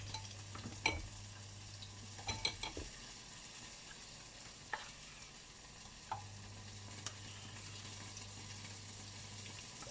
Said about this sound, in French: On mélange doucement pour pas que ça déborde non plus.